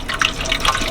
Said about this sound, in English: I'll just rinse them out in the sink.